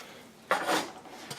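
Removable ceramic grill plate inserts for a George Foreman Evolve grill being set in place, a short nearby clatter and scrape of ceramic against metal followed by a faint second knock.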